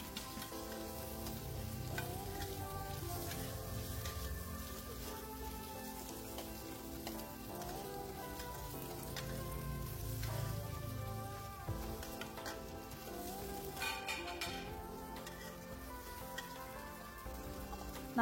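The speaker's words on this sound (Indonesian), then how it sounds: "Ini udah harum, selanjutnya kita tumis juga bakso sama sosisnya." Meatballs and sausages sizzle steadily in a hot pan while being stir-fried for capcay, a continuous close crackle with occasional scraping from stirring.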